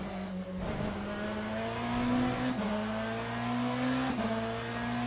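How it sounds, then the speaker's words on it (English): A Ferrari GT3 race car at Spa in the Le Mans Ultimate racing game, its engine droning loud and steady as it climbs through the gears, with short dips at each shift. "after this we take out the Ferrari at Spa, not the Hypercar but the GT3"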